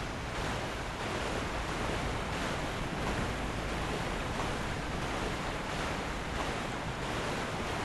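Steady broadband wash of ocean surf and wind rolls on throughout, with soft swells rising and falling in Dark Souls III, no voices present.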